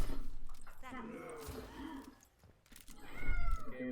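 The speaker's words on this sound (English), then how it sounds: "My cat's wanting to be fed." A house cat meows repeatedly at close range, wanting to be fed. Several drawn-out, wavering cries rise and fall, mixed with a voice talking over them.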